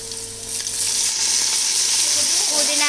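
Onions sizzling in a pan with salt while a biryani is being made, a bright continuous crackle that swells after a quiet start and holds steady, with faint stirring clinks.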